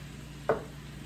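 Steak bites being stirred in a hot pan give a single brief scraping sizzle burst, close and fairly soft, with quiet background before and after.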